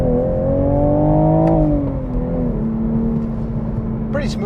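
A 2023 Toyota Supra with a manual transmission pulls away and accelerates, its engine droning steadily with pitch rising and then dipping at a gear change. The engine is heard from inside the cabin, alongside a light clatter at the end.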